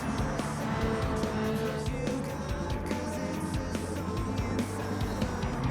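A Ferrari 458 Italia GT3 race car, detuned to 700 in Gran Turismo 7, drives on at a steady, loud engine roar with tyre squeal and skidding layered over it, and no voices.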